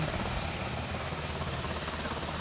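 A helicopter flies over a ballpark, its steady rotor and engine drone filling the air loud and continuous throughout, with no talk over it.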